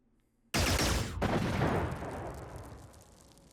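A loud burst of gunfire fired at an alien in the turn-based strategy game Xenonauts, a sudden rattling volley followed by a long decaying rumble, with no speech.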